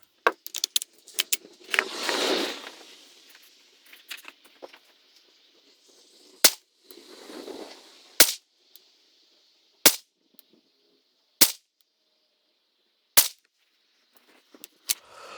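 A .22LR rifle fires several sharp, sharply cracking shots spaced a second or two apart at an outdoor range, with fainter rustling and handling noise between the reports.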